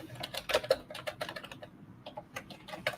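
Rapid, irregular clatter of keys on a computer keyboard as code is typed, close and crisp, with bursts and short pauses over a faint room hum.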